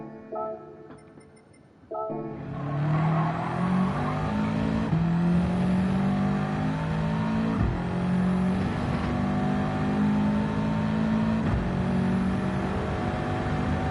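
Subaru WRX GR4 race car engine at Deep Forest Raceway in a racing video game, a loud sustained roar climbing through the gears with brief dips at each shift, close and continuous with no talk.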